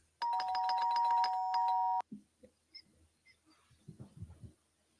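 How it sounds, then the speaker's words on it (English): A two-tone ding-dong doorbell pressed rapidly over and over, ringing loud and continuous for about two seconds and then cutting off, followed by faint scattered clicks and rustling. "hyperactive doorbell call. Yes, that one is called Ding Dong, impatient, multifast presses"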